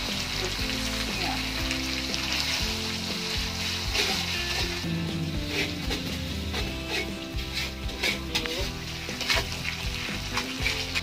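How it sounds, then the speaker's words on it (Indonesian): Ingredients for seblak frying in a hot pan with oil, a dense continuous sizzle and crackle with occasional stirring clatter, close and steady throughout. "Kita goreng dulu."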